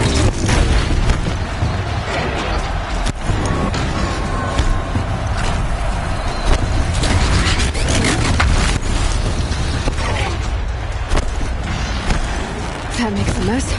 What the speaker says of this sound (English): One more pillar and that platform will come down.